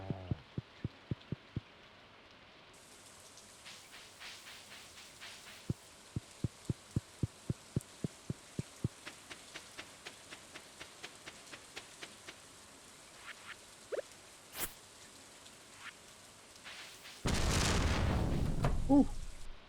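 Rain falls steadily in the Stardew Valley video game, with sharp rhythmic taps and clicks over it and a loud crash of thunder near the end.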